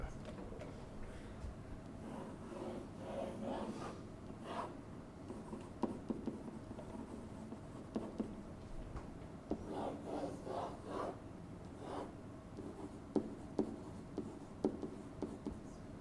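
Marker or chalk scratching and rubbing across a classroom board during a lecture, a faint, continuous series of short strokes and scrapes with occasional sharper taps, set against quiet room tone.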